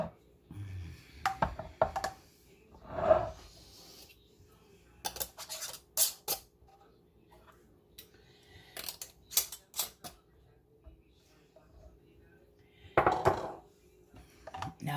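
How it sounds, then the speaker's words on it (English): Sterilized metal rings screwed finger tight onto glass canning jars: scattered sharp metallic clicks, scrapes and clinks in irregular bursts with quiet gaps between, close by. "Now I have the rings, and I'm just going to do them finger tight."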